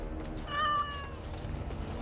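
Sir Pouncer, a cat in the fantasy role-playing game Dragon Age: Origins, gives a single short, clear meow over a low game ambience.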